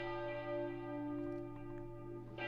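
Resonant church bells keep chiming, a dense, sustained ringing that holds steady and fairly loud throughout, with no speech over it.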